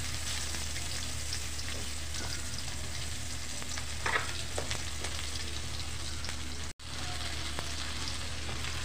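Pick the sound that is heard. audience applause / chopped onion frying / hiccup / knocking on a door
chopped onion frying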